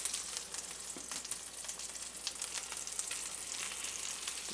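Pork chops sizzling steadily in a hot frying pan, a dense continuous crackle and spatter close up with no talk.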